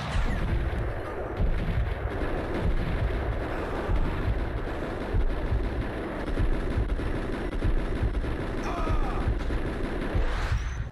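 Dense, relentless gunfire and explosions from the video game Max Payne, a loud continuous barrage of shots and blasts with no pauses.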